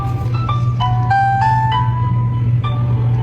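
A baby's tummy-time toy with lights and sounds plays a bright electronic tinkling melody of sustained tones over a steady low hum, close and fairly loud.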